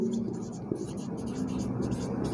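Pen scratching on paper while working out a cantilever slab design, a soft continuous scribble under low, murmured talk.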